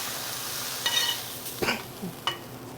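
Harissa vinaigrette poured over broccoli in a hot pan, a soft steady sizzle with a few brief stirring scrapes and clinks, close and fairly quiet, no talking.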